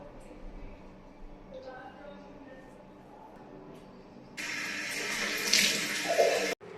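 A tap runs loudly as a face is washed, a sudden steady rush of water starting partway through and stopping abruptly near the end, preceded by quiet room noise.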